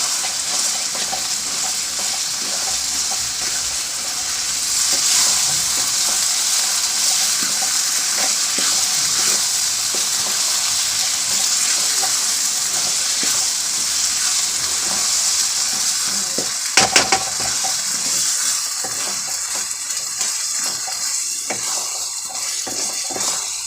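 Keema methi roasting in a pan with garam masala added, a steady close sizzle and frying crackle running throughout, with a few brief stirring clatters.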